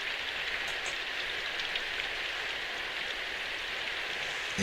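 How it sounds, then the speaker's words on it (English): Steady, constant rain in the game Symphonic Rain, a dense even hiss of falling drops on surfaces that continues unbroken throughout, with no voices. "I ignored the constant rain and hurried to Torta's house."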